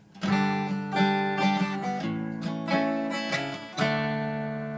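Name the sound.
guitar chord with pinky on fourth fret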